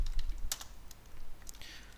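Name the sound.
typing code on a computer keyboard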